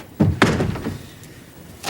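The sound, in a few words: door being closed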